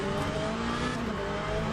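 A McLaren race car in the Le Mans Ultimate racing game holds a steady engine drone at constant loudness, with a low rumble and faint tonal harmonics and no audible pitch sweep.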